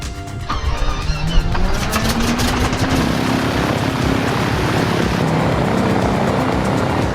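A propeller airplane engine starts up close by. It quickly settles into a loud, steady rumbling drone with a slowly rising tone, and the noise stays continuous throughout.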